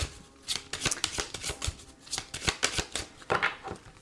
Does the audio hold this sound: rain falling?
no